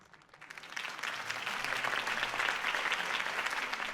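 A crowd in the video game Batman: The Telltale Series bursts into sustained applause at a city campaign event, clapping building quickly and holding steady and loud, with a faint low hum underneath.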